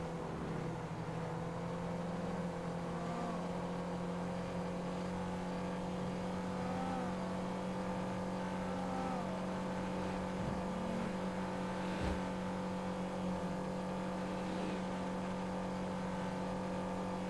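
A car in a GTA roleplay video game drives fast with a steady, droning engine hum that holds constant through the stretch, with faint background sounds and no speech.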